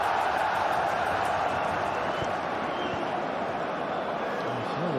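Football stadium crowd at Feyenoord vs PSV in the Eredivisie, a dense, continuous roar of thousands of fans filling the air, steady and loud throughout.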